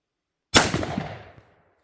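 A single shotgun blast, fired upside down at a pattern target, cracks loud and close, then decays over about a second with no talk.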